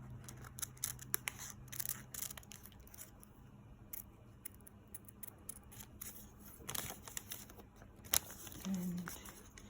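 Scissors snip through paper while a miniature dress pattern is cut out, giving a steady run of short, crisp, close cuts at low level, with a few louder rustles near the end.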